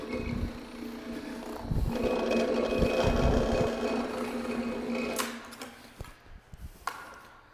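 A walk-behind carpet scraper runs steadily with a rough mechanical drone and ripping noise as it cuts and tears carpet, then winds down into clicks and scattered knocks.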